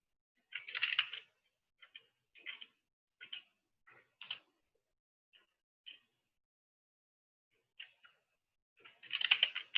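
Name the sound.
typing a command on a computer keyboard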